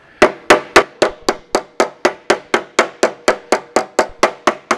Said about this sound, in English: So when you're hammering shrinks together, it creates a pucker